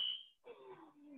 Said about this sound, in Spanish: está justo la alarma de incendio, está justo afuera de la puerta de nuestro departamento